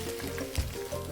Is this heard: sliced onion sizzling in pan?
yes